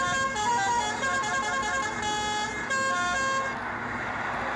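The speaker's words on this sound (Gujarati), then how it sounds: "મિત્રો હોરન મારી નાખ્યું છે" A bus horn honks steadily for several seconds, loud and close, its tonal blare holding almost unbroken before easing off near the end, with road and engine noise underneath.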